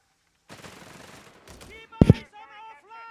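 Machine gun fire in the video game Company of Heroes 3 rattles in a rapid burst, followed by a sharp louder blast and further gunfire, mixed under a commentator's voice.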